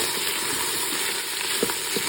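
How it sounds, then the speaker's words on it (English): Chopped onion cooking down in a Ninja Foodi, a steady close sizzle and fry with a few faint clicks of stirring, no talk. "just add a chopped up onion and let that cook down for a couple of minutes"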